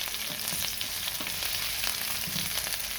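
Scalloped potato slices frying in a pan, sizzling steadily with faint scraping and tapping as a spatula turns and flips them, close and continuous with no voices.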